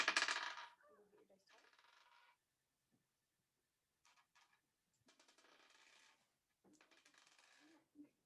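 Dice clatter across a tabletop in a sharp opening burst, followed by several lighter rattling rolls and bounces spaced out over a few seconds in an otherwise quiet room.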